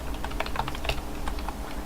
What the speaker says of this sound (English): Go to the search box and then type in your next address.